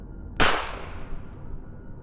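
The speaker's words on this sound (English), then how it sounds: "All I heard was a gunshot." A single sharp gunshot sound effect in an animated horror story cracks out loud and close, then fades into a lingering decaying tail over quiet background.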